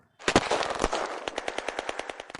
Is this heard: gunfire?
yes